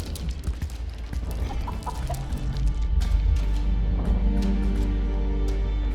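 A chicken clucking in the video game Argonus and the Gods of Stone, intermittent clucks over a steady low rumble of game ambience, moderately close.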